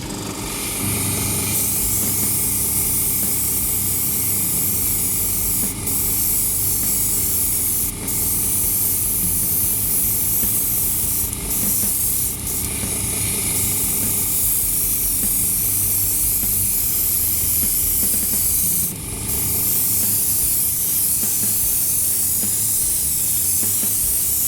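Aerosol can of Nebula colour-shift spray paint hissing loudly and almost continuously up close, in long sustained bursts with a few brief gaps.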